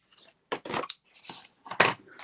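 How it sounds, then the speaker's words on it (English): Craft snips cutting through cardstock or paper in a few crisp, separate snips, close by and fairly loud, with quiet rustling of paper between cuts and no talking. "we're just going to cut this with our snips right here"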